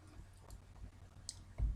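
Light, scattered key clicks from a QWERTY computer keyboard while entering data into an Excel spreadsheet, quiet and irregular, ending in a duller thump.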